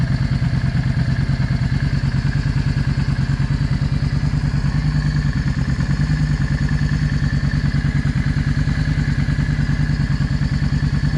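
A Yamaha V Star 650 motorcycle engine idles steadily up close, a loud, even low-pitched pulsing with a faint mechanical clatter running throughout and no voices.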